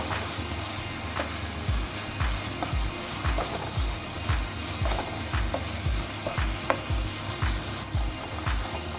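Chicken pieces sizzle and fry in a pan for a pizza topping, a loud steady crackle with rhythmic stirring scrapes roughly every second, close up and without talking.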